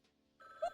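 Telephone ringing in the cartoon detective game Frog Detective, a short electronic bell-like ring that starts abruptly and sounds clean and close.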